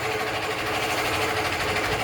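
A small engine lubricated with Global Petro oil runs steadily during a durability test, a constant close buzzing hum with a fine rapid vibration and no talking.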